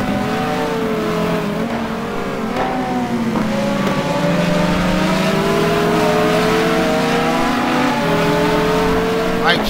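A Viper race car engine in a racing video game screams down the straight, loud and continuous with rising and shifting gear tones throughout, other engines layered beneath.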